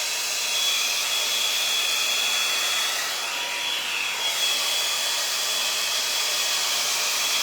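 A hair dryer brush tool blows continuously with a steady, loud airy whoosh and a faint high whine, running without pause for several seconds.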